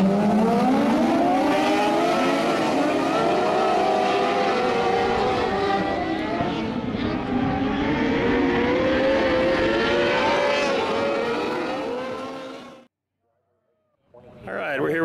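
Race cars roar around the track at Miami County Speedway during an evening of racing, a loud continuous engine drone with shifting pitch for about thirteen seconds, then a brief silence before the noise returns.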